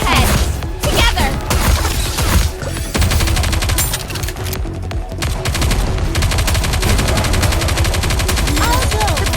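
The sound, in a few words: gunfire in the video game Goddess of Victory: Nikke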